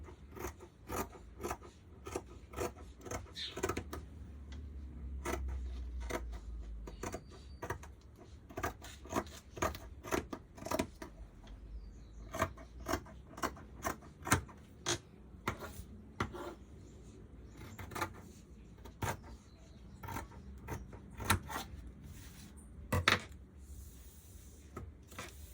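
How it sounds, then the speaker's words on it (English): Scissors snip through fabric, laid on the fold and held down by a weight for cutting a red dress top, in a long run of crisp, closely spaced cuts at a quiet, close distance. "we're gonna cut our fabric"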